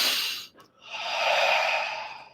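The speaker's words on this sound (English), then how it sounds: "I'm going to take a deep breath" A single deep breath, drawn in and then let out in a long, steady exhale, close and alone with no talk.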